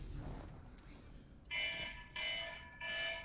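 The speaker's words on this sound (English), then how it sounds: "That's my wake up alarm." A wake-up alarm beeps in three sustained electronic tone bursts, moderately loud and steady, after a stretch of quiet room noise with faint speech in the background.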